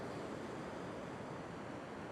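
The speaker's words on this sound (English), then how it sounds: "the waves are breaking on an angle across" Ocean waves break at an angle across a fishing beach, heard as a continuous soft, faint roar of surf with no voices.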